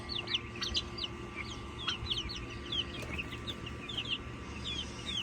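Young chicks in a chicken coop peep and cluck continuously, many small high chirps overlapping at close range over a low steady background hum.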